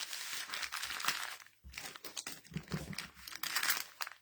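Paper being folded and crinkled by hand during a home craft project, close and fairly loud, with dense crackling bursts and a brief pause midway, no talking.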